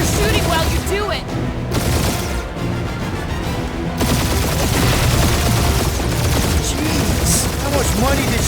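Sustained rapid gunfire and blasts from a space battle in the Marvel's Guardians of the Galaxy video game, loud and continuous, mixed with bursts, booms and game dialogue voiced over the shooting.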